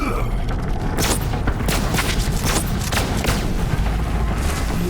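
Heavy gunfire from the Lyuda sniper rifle in Borderlands 3, loud and dense, with repeated sharp broadband cracks and booms rolling over each other for several seconds.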